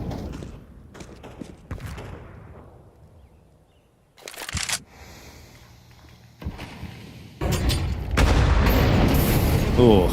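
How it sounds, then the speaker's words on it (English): A grenade in a Counter-Strike esports match at PGL Cluj-Napoca goes off with several sharp booming blasts and thuds in bursts, under a caster's talk, with the noise growing denser and louder near the end. "that's a meaty grenade to have to deal with"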